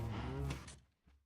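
A cow moos in the video game Minecraft, a loud, low, drawn-out bellow that cuts off abruptly and leaves a short faint tail.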